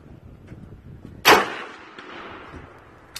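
A rifle shot rings out at an outdoor range and strikes a steel plate 200 yards away, giving one sharp loud crack that decays into a ringing tail, with a faint click near the end.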